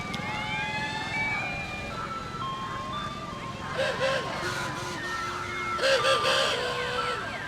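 A steam calliope playing a wavering pipe melody in a small-town strawberry festival parade, outdoors and fairly loud, with a crowd and people talking nearby over the music.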